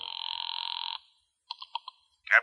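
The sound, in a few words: telephone ringing in a radio drama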